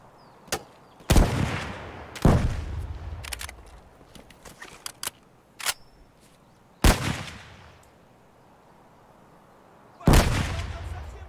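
Sharp, loud gunshots ring out in Escape from Tarkov as blind fire goes off in spaced single bursts, about five reports, each with a short decaying tail, amid quieter clicks and no talk.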